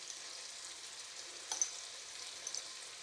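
A chicken and noodle wrap filling fries in a pan with a soft, steady sizzle. A few faint clinks and scrapes from stirring come through, quiet and close.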